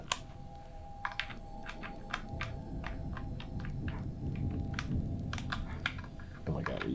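Keys on a computer keyboard clatter in quick irregular bursts right after it is plugged in, with a low steady hum and background noise beneath the sharp clicks.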